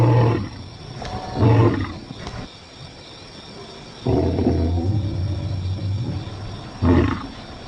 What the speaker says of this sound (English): lions often roar in chorus